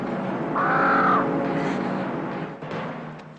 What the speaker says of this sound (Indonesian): Saya takut gagak itu akan menyerang kita.